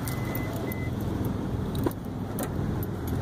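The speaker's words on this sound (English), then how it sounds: "I'm trying to lock my car." Car keys jangle softly over the steady low hum of a nearby car and traffic while a vehicle is being locked, with a brief electronic chirp and small metallic clicks.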